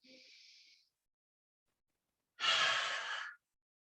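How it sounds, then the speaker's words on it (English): Deep yoga breathing during a flow class: a soft nasal inhale, a pause of silence, then a longer, louder, airy exhale close up, with no talking. "Inhale through your noses"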